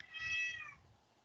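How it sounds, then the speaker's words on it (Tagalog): A cat gives one clear, fairly faint meow indoors, rising and then fading over about half a second, with quiet background afterward. "Ang ingay ng pusa."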